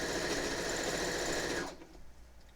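Sewing machine running at a steady fast whir for about a second and a half, then stopping abruptly, leaving quiet room tone.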